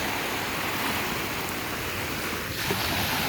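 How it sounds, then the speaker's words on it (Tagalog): Steady wash of ocean surf at a beach resort shoreline, a constant broad roar with light wind noise across the microphone and no talking. "Andito kami sa beach resort."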